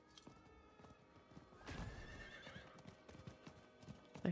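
The green glowing cosmetic horse in Diablo IV clip-clops along and lets out a whinny midway, hooves tapping steadily at a soft level without speech.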